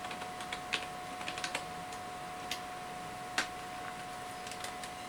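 A website address typed on a computer keyboard, with quiet, irregular clicks of individual keys in short bursts and pauses over a faint steady hum, no voices.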